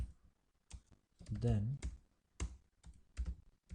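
Computer keyboard typing while writing a CATIA V5 VB script macro, with a series of sharp, irregular key clicks close by and a brief spoken word partway through.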